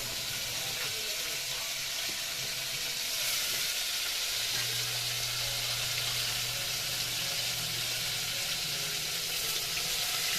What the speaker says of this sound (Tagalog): ikaw muna maglagay ng pusit pala. Kasi natatabalsikan ako.